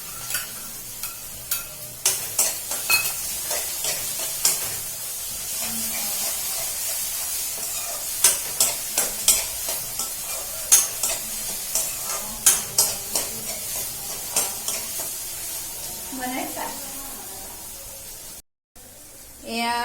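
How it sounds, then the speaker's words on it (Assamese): Onion, garlic, ginger and chili paste fry in hot oil with a steady, close sizzle, broken by repeated sharp clinks of a spoon stirring against the pan, and a voice speaks briefly near the end. "পিঁয়াজ দিয়া হৈ গ'ল এতিয়া লগতে নহৰু আদা জলকীয়া পেষ্টখিনিও তেলতে দি দিওঁ"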